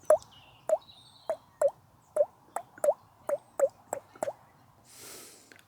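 A human mouth imitates water droplets: about ten wet, hollow plops at a steady, fairly quick rhythm, close and clear, ending with a soft breathy exhale.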